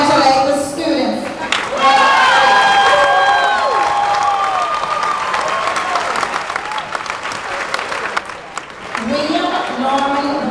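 Audience applause at a graduation ceremony for honor graduates, sustained clapping and some cheering filling a large hall for about ten seconds, steady and fairly loud with faint chatter beneath.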